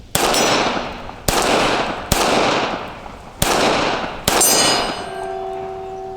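Five loud, sharp pistol shots from a Smith & Wesson Shield 380 EZ fired at a range, spaced about a second apart, each cracking close and ringing off before the next, followed by a faint steady tone.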